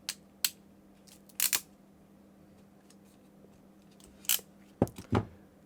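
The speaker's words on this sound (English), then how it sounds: "you can hear the ratchet mechanism as I squeeze the jaws" A hand crimping tool's ratchet clicks as its jaws are squeezed onto a cable, sharp isolated clicks in small clusters, close and fairly quiet against a low hum.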